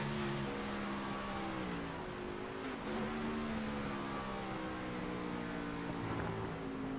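An engine drone from a race car in the iRacing game on the Daytona road course rises and falls steadily with shifting tones, loud and continuous, with no voices over it.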